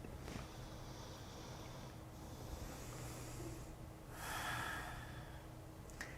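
Slow belly breathing during a guided relaxation exercise: a soft, close inhale and a longer, breathy exhale with a hissy rush near the end, faint and alone without talk.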